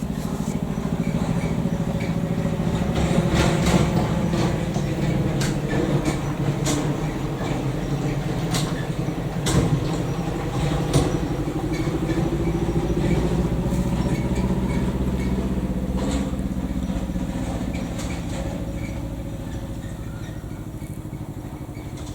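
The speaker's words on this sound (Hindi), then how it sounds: "एक मिनट, ट्रक की आवाज़।" A truck passing outside on the road, its engine rumbling as a steady low drone that builds, lingers and slowly fades, with scattered knocks and rattles over it.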